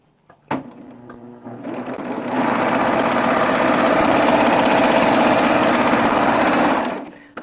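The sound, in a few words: Baby Lock serger test-stitching a 3-thread overlock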